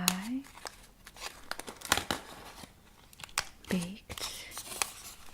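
A small metal foil wrapper crinkles and tears as it is opened, with close, crisp rustling bursts under soft, quiet speech in a gentle ASMR setting.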